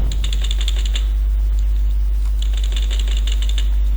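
Keys pressed on a computer keyboard for a Control+Z shortcut, a quick cluster of close, light plastic clicks followed by a pause and a second burst of taps over a steady low hum.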